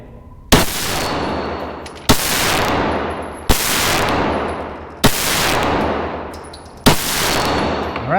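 Five loud, sharp shots from a Glock 17 Gen 3 pistol fired at a target, spaced about a second and a half apart, each a crisp crack followed by a long ringing echo that fades before the next.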